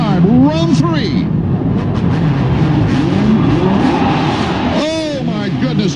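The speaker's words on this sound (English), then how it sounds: "Crescendo now as they rev the machines and we're underway" Supercross motorcycles revving loudly together at the start of the Anaheim main event, a continuous dense engine roar with rising whines, under an announcer's commentary throughout.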